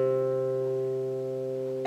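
A metal C string on a harp plucked once, ringing out loud and steady for nearly two seconds with a clear sustained tone that barely decays.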